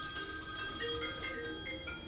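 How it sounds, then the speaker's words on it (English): Telephone ringing in a sketching studio, a faint repeated electronic trill sitting low under steady room noise. "phone's ringing"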